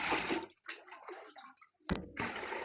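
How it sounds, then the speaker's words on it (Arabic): Water pouring into a container at a rural home: a loud gushing rush that breaks off into sloshing and trickling, then surges again after a sharp knock, close and alone. "غادي نعمر الماء دخلت غادي نعمر الماء."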